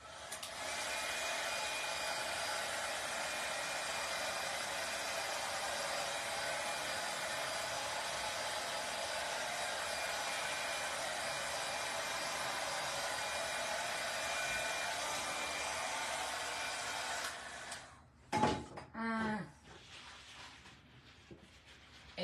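A hair dryer blows steadily on a foam sheet rose coated with hairspray. Its constant whirring hiss holds for about seventeen seconds and then cuts off, followed by a few short clatters and rustles.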